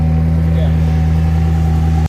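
The engine of an orange sports car drones loudly and steadily with a deep, sustained rumble, then cuts off abruptly at the end.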